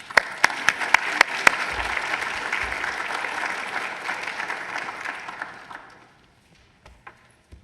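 Loud applause from a conference audience welcoming a university provost to the podium, a dense, steady clapping with a few sharp claps near the front, fading out after about six seconds to near silence.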